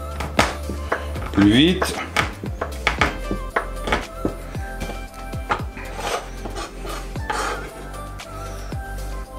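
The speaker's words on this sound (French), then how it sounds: "on va venir concasser notre chocolat" Chocolate is crushed by hand for a Valentine's heart dessert, giving a run of close, irregular thunks and scraping rasps with clinking, while a person talks briefly in French.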